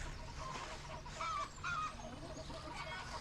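Farm chickens cluck repeatedly at a moderate distance over a steady outdoor background. The short, uneven calls rise and fall in a loose rhythm.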